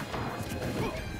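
Forward smash attacks land in a competitive fighting-game match, a dense burst of crunchy impact hits packed into about a second with crowd and game noise underneath.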